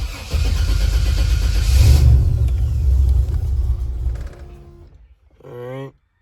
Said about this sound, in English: We're gonna go start this car up, and then we're gonna actually see what it reads.